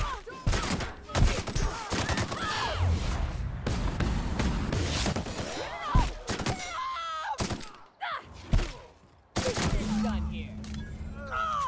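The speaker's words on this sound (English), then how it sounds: "Oh, you gunned them all down with one mag." Rapid bursts of gunfire in The Outer Worlds, in the town of Monarch, crackling in dense clusters with short gaps and thuds between them.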